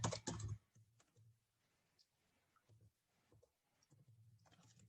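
Keystrokes on a computer keyboard as a project name is typed, a loud burst of clicks at the start followed by sparse, quieter taps in short irregular runs, close up with no talking.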